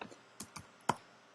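A handful of separate key taps on a computer keyboard, close and crisp, with one sharper final keystroke and quiet gaps between them.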